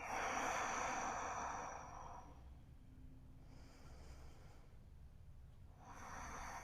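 A slow, soft exhale during a yoga stretch against a wall, close and quiet, followed by a calm pause and the start of another breath near the end.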